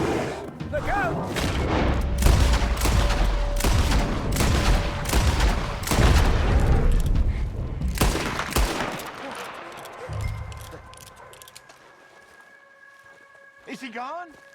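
Rapid gunfire and booming shots in Red Dead Redemption 2, a dense loud volley of cracks for about ten seconds, then tapering off into quieter tones as a voice speaks.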